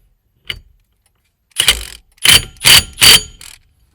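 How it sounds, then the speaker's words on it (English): Impact wrench tightening bolts during a clockspring install on a 2008 Nissan Xterra/Frontier/Pathfinder: a short click, then four loud, close bursts of rattling hammering in quick succession, with no talk. "I'm going to use my impact to tighten it up"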